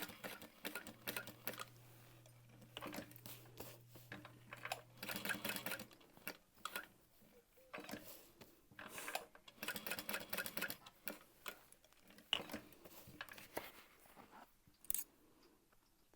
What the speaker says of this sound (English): I'll top stitch that into place